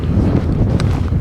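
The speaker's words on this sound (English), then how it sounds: "would have been better without all the wind" Wind gusting across an exposed mountainside near Honister, a steady roaring rush buffeting the microphone with no letup and occasional sharper gusts.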